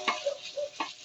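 Onions go into hot oil and begin to sizzle, with a few quick clinks and stirring scrapes over a soft crackle, close by.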